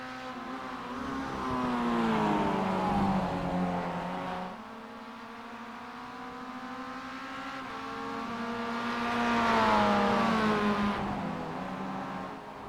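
Spec Miata race cars, among them the number 25 and the number 90 Miata, run on a racing circuit, engines rising and falling in pitch through two long pulls with a shift between them.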